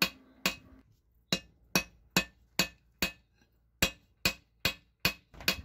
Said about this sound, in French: à la première chauffe, on va taper vraiment très doucement, simplement pour souder toutes les couches entre elles